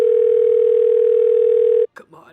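A single long, steady telephone tone hums loudly for nearly two seconds, then cuts off abruptly and a voice begins speaking.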